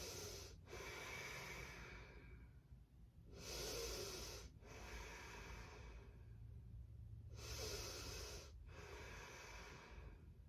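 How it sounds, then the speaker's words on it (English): Three slow, deep breaths, each a long hissing inhale and exhale with short pauses between, close and steady, taken while holding a yoga lunge with the back leg straight and arms raised. "3 big breaths here"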